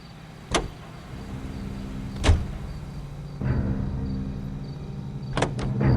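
A car drives in the L.A. Noire video game, a steady engine and road hum broken by a few sharp clicks and thumps, with no voices.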